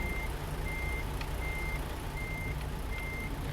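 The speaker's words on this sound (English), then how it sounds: "Back up the truck like so." A truck in American Truck Simulator backs up while its reversing alarm beeps in a steady, evenly spaced pattern over a constant low engine drone.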